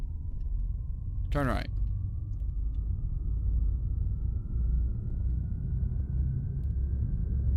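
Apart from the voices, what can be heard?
car engine starting and rumbling in a video game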